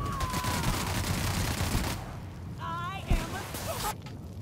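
A companion's weapon fires in The Outer Worlds, rapid volleys of shots rolling together with a sharp thump near the end, loud and close amid game sounds.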